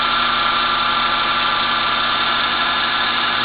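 A diamond radius dresser cuts a fillet into a grinding wheel, a steady, loud, continuous abrasive whine and hum with no breaks, heard alone.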